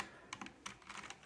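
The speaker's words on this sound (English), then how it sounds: "It actually sounds like a typewriter." Typing on an AULA typewriter-style mechanical keyboard, a close burst of crisp clacky keystrokes in quick, uneven succession.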